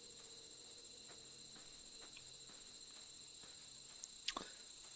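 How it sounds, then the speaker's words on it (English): Crickets chirp at night in the game The Beginner's Guide, a faint, steady, high-pitched trill that goes on throughout, with a few small clicks and one brief sharper tick near the end. "It even has the little cricket sounds."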